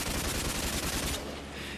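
Machine gun fire from the chin gun turret of a bomber, a dense continuous burst of rapid shots lasting under two seconds, loud and close, then cutting off to a softer rumble.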